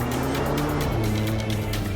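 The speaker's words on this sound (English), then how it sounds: "drifting on dirt is difficult" A car drifts on a dirt track with a steady engine drone and sliding tire noise, loud and close, the pitch shifting slightly as it slides.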